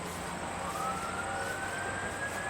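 Fire engine sirens pass outside a building, a faint rising wail sweeping slowly upward over steady low traffic rumble, distant and alone with no talk.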